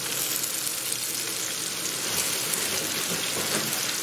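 Beef pieces coated in potato starch sizzle and fry in a hot pan, a dense, steady crackling hiss like rain that runs unbroken throughout.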